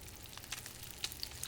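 Venison fries in a pan on a stove in The Long Dark, a faint steady sizzle with occasional soft pops, heard alone at low volume.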